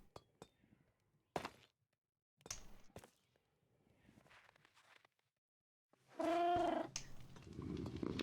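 A cat gives one clear, drawn-out meow near the end, preceded by quiet clinks and soft footsteps in a hushed room.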